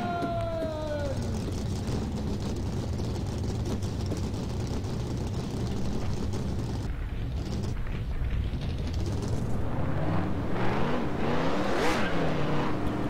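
Race car engines in the NR2003 racing game, a dense pack roaring at high revs with rising and falling pitch sweeps as the cars pass, loud and continuous throughout.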